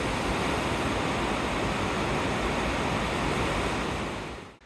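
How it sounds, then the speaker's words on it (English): Raging creek rapids pour over rocks as mountain snowmelt rushes downstream, giving a loud, steady, broad roar of churning water that fills the whole scene without a break before cutting off abruptly at the end. "we have these raging rapids flowing over the rocks as the water comes down from the"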